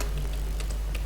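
Brief bursts of keyboard typing while entering text in MS Word, a few light clicks over a low steady hum, close and fairly quiet.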